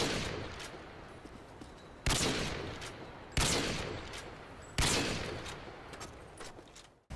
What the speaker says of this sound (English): the iconic Call of Duty Modern Warfare 2 quickscope